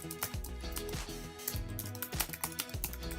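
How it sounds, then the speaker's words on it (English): Rapid clacking keystrokes on a computer keyboard, close and steady, with heavier thumps of the space bar or enter key every second or so and no voice. "just type in a quick message"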